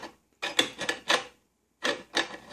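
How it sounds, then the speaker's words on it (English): Metal parts of a meat grinder being fitted back together for homemade country sausage, producing close scraping and rubbing rasps in two short clusters separated by a brief pause, with no talking. "we're putting our grinder back together"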